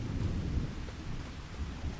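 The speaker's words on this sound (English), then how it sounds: "Hopefully this rain doesn't last long." Steady rain with low rumbling thunder in the farming video game Farming Simulator 25, a dense continuous wash of rainfall with deep rolling thunder underneath, alone with no voices.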